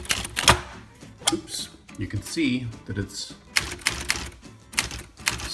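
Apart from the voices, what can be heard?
typing keys on a Remington Quiet-Riter typewriter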